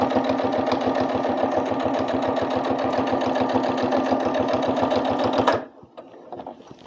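A sewing machine stitches a seam on a fabric knitting-project bag with a rapid, steady run of close, loud mechanical pulses, then stops abruptly, leaving quiet room noise.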